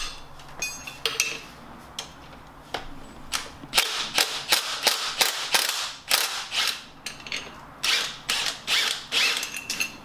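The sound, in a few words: impact wrench removing a suspension part on a 2019 VW Golf Sportwagen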